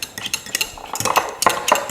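A spoon whisks melted butter mixture for baked salmon in a bowl, giving quick rhythmic clinks and scrapes against the side, close and bright, without talk.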